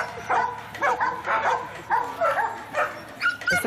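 A search and rescue dog in training gives a series of sharp, close barks and yips at an uneven rhythm, about six bursts with brief pauses between them.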